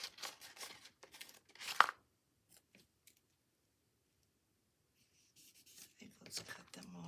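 Scissors snip through paper while someone trims cut-out berry and wreath decorations for a handmade tag and gift-card folio: quick crisp bursts of cuts, a quiet pause, then more snipping and paper rustle up close.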